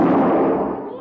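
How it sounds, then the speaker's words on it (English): A single loud, close gunshot from a revolver in an old Western radio drama, a booming blast that decays over about a second. "You just shot the gun from my hand."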